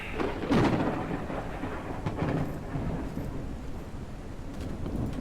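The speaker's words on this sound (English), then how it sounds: "Lightning, thunder." Thunder and a steady downpour in the arctic winter weather of the mining game Out of Ore, a low rolling rumble sustained under constant rain noise with a few sharper cracks.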